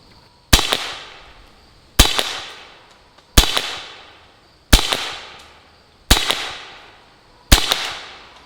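Six loud, evenly spaced pistol shots from a Pistelle X-68 striking an AR500 steel Texas Star target, each a sharp crack with a short decaying ring, about 1.4 seconds apart.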